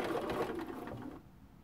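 A sewing machine runs steadily while chain piecing patchwork blocks, a close, fast mechanical whirring and stitching rattle that stops abruptly near the end, leaving a quiet room.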